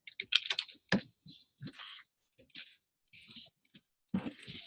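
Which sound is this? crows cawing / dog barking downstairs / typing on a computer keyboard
typing on a computer keyboard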